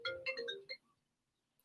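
A phone ringtone plays a short melodic phrase of bright stepped tones that quickly cuts off, leaving near silence, clear and close.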